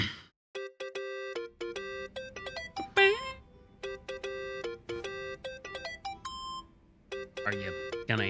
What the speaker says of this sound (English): I think that's your phone.